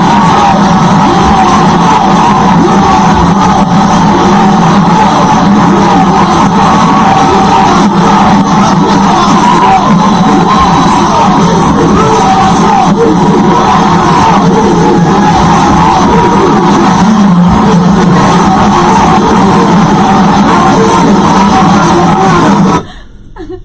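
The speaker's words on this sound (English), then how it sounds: "they actually shouted at the president" A large crowd shouts and yells at the president in a loud, continuous roar of overlapping voices that holds steady before cutting off abruptly at the end.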